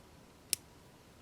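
Small wire cutters snip through a thin wire loop during a DCC decoder and speaker install in an Athearn F7B model locomotive: one crisp click, then a second sharp snip just over half a second later, both close and quiet.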